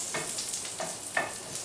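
Grease sizzles in a pan over medium heat for potato pancakes, with a few bacon bits in it. A steady soft hiss runs throughout, with a few brief louder spits, and no one speaks.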